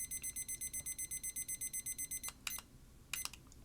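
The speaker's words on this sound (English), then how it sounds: "we'll set my timer I have on my desk that you hear beeping" A kitchen timer on a desk beeps in a rapid, steady run of bright electronic pulses for about two seconds, then stops; a few faint clicks and knocks follow in a quiet room.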